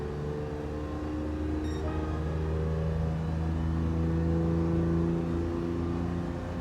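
A car engine in Gran Turismo 7 drones at moderate volume, its pitch rising slowly under acceleration with a dip at an early gear change, steady and unbroken throughout.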